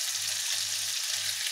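Pork meat sizzles in Lurpak butter in a pan with a steady bright frying hiss, close and continuous, while a low, even hum pulses underneath in three stretches.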